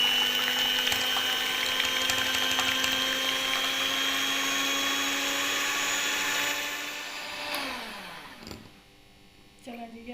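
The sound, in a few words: electric beater whipping cream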